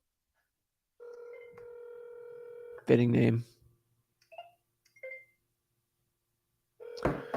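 Touch-tone telephone dialing on a real estate wholesaling cold call: a steady dial tone, then a quick burst of keypad beeps, scattered short tones and a ringback tone starting at the end, with a brief spoken remark in between.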